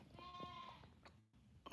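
A goat bleats somewhere in a basement, a faint, wavering cry heard from a distance in a quiet room, followed by a short shuffle and a sharp close noise at the end.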